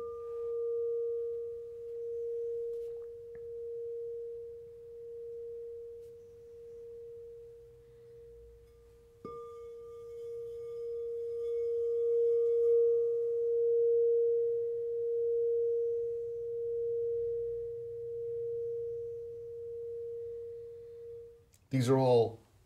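An 8-inch crystal singing bowl tuned to A sharp, one of a five-bowl crystal set, rings as a sustained pure tone that swells and fades in slow waves for about twenty seconds, with a soft second strike midway and a brief clatter at the end.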